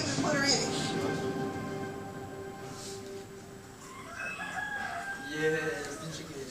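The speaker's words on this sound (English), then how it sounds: "Yes, the chicken." A chicken in a small country town, heard as a drawn-out, crowing rooster-like call followed by shorter, wavering clucks, moderately close over steady background noise.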